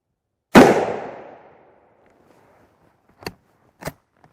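A single sharp, loud rifle shot cracks against an NIJ IV silicon carbide armor plate and rings out with a fading tail, followed by two fainter clicks a few seconds later.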